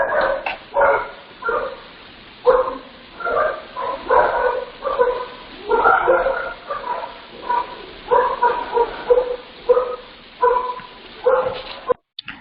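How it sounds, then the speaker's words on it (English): A dog barks over and over in short, loud bursts with a few yips and whimpery notes, close and clear, with no talking. "There's some dog barking."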